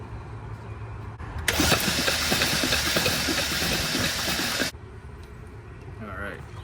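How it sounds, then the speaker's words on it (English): A 2012 Jeep Grand Cherokee 3.6L with a blown head gasket cranks for about three seconds, a loud, steady whirring churn up close that cuts off abruptly, with faint background noise before and after. "so while we crank it, we're gonna see if anything comes out"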